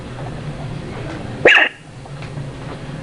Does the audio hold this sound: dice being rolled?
no